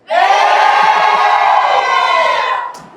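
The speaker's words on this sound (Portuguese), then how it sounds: "Quem tá feliz aí grita eu." An audience at a training session shouts one long unified syllable in reply to a question, a loud, sustained crowd yell that holds for over two seconds and then drops off.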